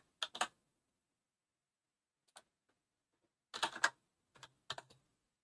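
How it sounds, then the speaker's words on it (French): Computer keyboard typing in short bursts: a quick pair of keystrokes, one lone tap, then a flurry of several clicks and two final small clusters, close and crisp in otherwise near silence. "je vais taper donc ma variable donc, qui est page"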